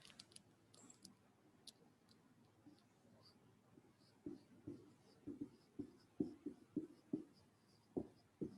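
Marker scratching across a board during a biology lesson, a run of short strokes growing louder and denser in the second half, fairly close with a faint hiss behind.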